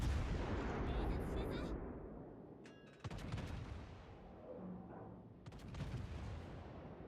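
Naval artillery shells firing in a warship video game battle: a heavy rumbling roar that fades, then a few sharp, crackling reports at a distance, with a faint voice in the background.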